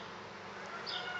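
Honey bees hum in a dense, continuous buzz at an open beehive, close and fairly quiet, with a few individual bees briefly whining past.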